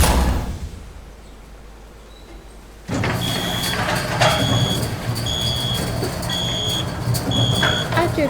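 Mech gear powering down after a video game battle: a sudden shift to a dense mechanical hum with a repeating high electronic beep pattern, loud and steady after a quieter opening stretch.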